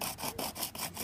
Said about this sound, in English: right now I'm on this stone grinding down